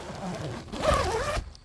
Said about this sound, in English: See how this zips with one hand.